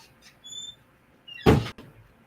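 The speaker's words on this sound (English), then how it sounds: "A lot of slamming going on in the background" Somewhere in a building, doors bang and squeak: a couple of faint squeaks and thumps early, then one sharp, louder slam-like crash near the middle, followed by a brief softer knock, with quiet between.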